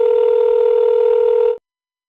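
A telephone call tone sounds loud and steady as one long unbroken buzz, then cuts off abruptly into silence.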